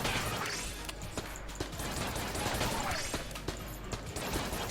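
Rapid bursts of pistol fire from the witch pistol in the video game Enter the Gungeon crackle and clatter over a busy game soundscape, with sharp repeated shots and crunchy impacts, loud and dense throughout.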